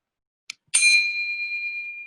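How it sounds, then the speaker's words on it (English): A single bright bell rings to mark time in an online school parliamentary debate: a short faint tap, then one clear strike that sustains with a long, slowly fading ring. "we'll also be playing this sound of a bell to denote that the"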